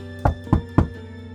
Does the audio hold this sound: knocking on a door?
yes